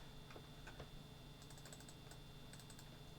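Soft, faint keystrokes on a computer keyboard in short irregular clusters, with a quiet steady hum underneath and no voices.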